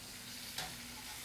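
Fish broth going into a sizzling pan of sole with almonds and butter gives a faint, steady frying hiss, with one brief splashy burst midway and no voices.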